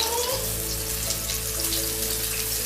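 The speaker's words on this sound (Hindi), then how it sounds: "तकरीबन हम इसे 5 मिनट तक फ्राई करेंगे" Steady sizzling and crackling of a chicken burger patty frying in oil in a pan, a continuous dense hiss with faint popping and a low hum underneath, no speech.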